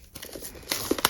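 Plastic wrap crinkles and tears off an album in a few quick, close crackling bursts, with sharper rips toward the end.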